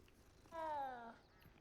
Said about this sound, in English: pet the speckled kitty